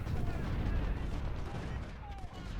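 Continuous rumbling artillery and rifle fire from the Civil War strategy game Ultimate General: Civil War, dense and booming with overlapping volleys, while someone talks.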